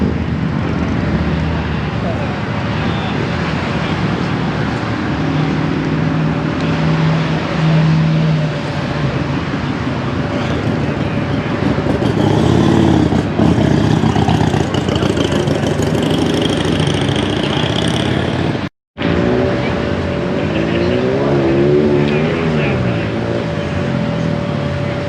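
The engine of a 1995 Harley-Davidson Sportster rat bike idles steadily and close by, with a low uneven rumble that swells slightly as the throttle is blipped. Voices talk faintly over the engine.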